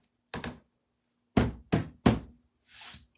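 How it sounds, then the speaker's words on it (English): Four sharp knocks on a thrifted item to shake off dried crusty bits, one alone and then a quick cluster of three, followed by a softer scraping brush; close and distinct with no talk. "knock off those crusties."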